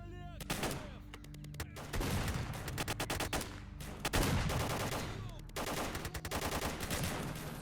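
Musket volleys crack out in a historical-era video game battle, several loud ragged bursts of gunfire rolling one after another, dense overlapping shots with echoing tails.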